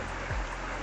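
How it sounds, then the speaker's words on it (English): Brook water flowing along a hiking trail between North Adams and Rutland, a soft continuous rushing wash at low level with a brief low thump partway through. "this brook is just absolutely beautiful"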